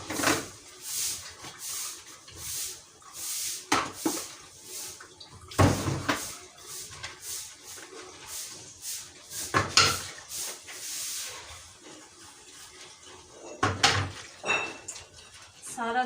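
Children's lunch boxes, bottles and lunch dishes washed in a home kitchen: clattering pots and utensils, clinking cutlery and running water in irregular bursts, close and fairly loud, with occasional speech.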